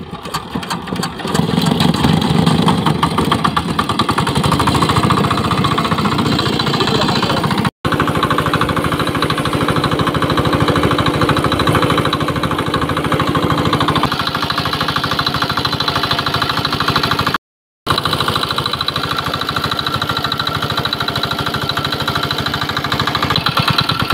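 A boat engine on the Titas river starts up and settles into a loud, continuous rattling idle that fills the whole stretch, with two brief dropouts and no talking.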